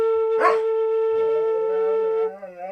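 A dog howls in a long, wavering tone with a sharp bark near the start, loud and close, played back from a recording with no talking over it.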